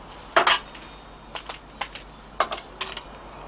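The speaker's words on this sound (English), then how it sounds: "you can hear it's nice and crisp on the bottom" A thin, crispy pizza from an Ooni Koda 16 gas pizza oven is cut, giving five or six sharp, close crunching crackles spaced irregularly over a quiet background.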